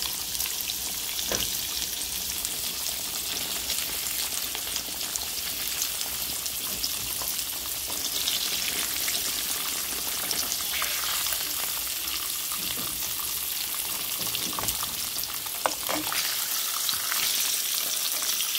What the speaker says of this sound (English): how you fry some turkey chops